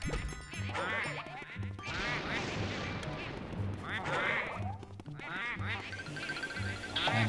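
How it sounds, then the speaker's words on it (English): Ducks in the video game Luigi's Mansion quack over and over in a busy chorus with steady game music underneath. "Man, there's all these ducks after me."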